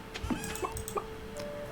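A chicken in Stardew Valley clucks several times in short, bright bursts over a soft steady game background hum.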